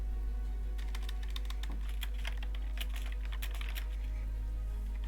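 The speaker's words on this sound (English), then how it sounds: "I'm going back and quickly typing stuff up" Notes are typed on a computer keyboard in quick irregular bursts of clicking keys over a constant low electrical hum.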